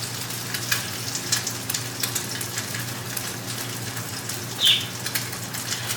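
Eggs sizzle steadily in a hot pan while chilaquiles are cooked at home, a constant close crackle with small spits and pops, plus one brief louder clatter near the end.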